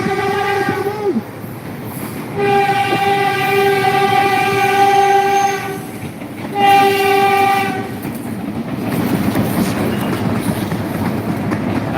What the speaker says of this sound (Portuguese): O trem passando aí, ó